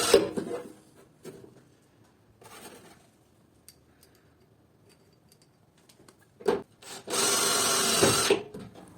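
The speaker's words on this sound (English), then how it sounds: "For this we use automatic screws and fasten the ducts to the body of the electrical panel." A power screwdriver drives automatic screws to fasten wiring ducts to the body of an electrical panel, with scattered ticks and handling knocks, then a loud, sustained whirring burst near the end.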